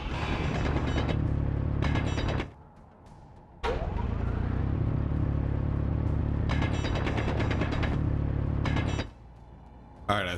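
A handheld grinder in Space Engineers chews down blocks in long loud rasping bursts, cutting off into brief lulls of lower mechanical hum before grinding again.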